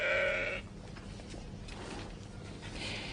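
Sheep at the Grassland Research Institute bleat once loudly and near at the start, then a fainter bleat follows near the end over a low, steady mechanical background hum, with no talk.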